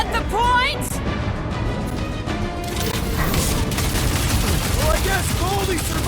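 Sniper and other gunfire in a combat scene from the game Guardians of the Galaxy, loud sharp reports mixed with blasts and shouted voices over dense battle noise.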